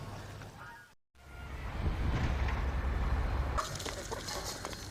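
Chickens on a farm with about 400 laying hens and broilers, a steady murmur of clucking and fowl calls throughout, with a brief dropout near the start and a brighter stretch toward the end.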